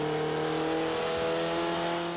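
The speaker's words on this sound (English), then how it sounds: "You can see I've got the power there with this rally engine, short shifting the shit out of it" Rally car engine in Forza 5 revving hard, a loud sustained tonal roar with steady harmonics across the whole clip as the racing car is driven flat out, with no voices.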